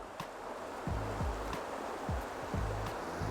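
Creek water flowing steadily while trout fishing with a float, heard as a constant close hiss and wash, with a few low thumps and knocks over it.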